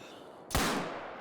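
A single sharp gunshot from a .45 Rolleston handgun in the hunting game theHunter: Call of the Wild, one loud close blast with a short decaying tail after a quiet lead-in.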